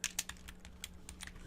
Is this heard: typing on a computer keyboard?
yes